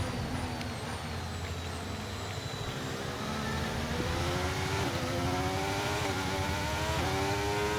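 Racing car engine in a wet race at Austria in a racing video game, a loud roaring drone with rising and falling revs and repeated upward gear sweeps, accompanied by hissing spray.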